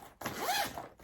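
A zipper on a compression packing cube slides in one smooth, close pass of roughly a second, its rasping buzz rising and then falling away, with no talking.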